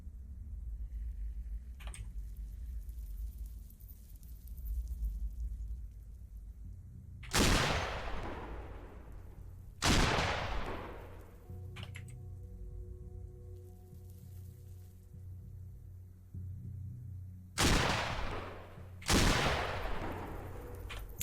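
Gunfire in the Cataclysm DDA video game, four heavy, widely spaced shots, each ringing out with a long decaying tail over a quiet, low background.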